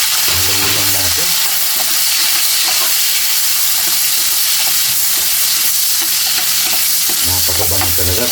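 Chopped onions sizzle and fry in a hot pot as the base for pork igado, a steady loud crackle throughout with stirring scrapes, the frying surging at the start and again near the end.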